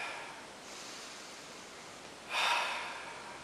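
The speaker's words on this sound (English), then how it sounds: "so you're going to breathe deep" A person breathes deeply and slowly, with one long, audible, breathy draw of air rising over soft background hiss and then fading, close to the listener and with no speech.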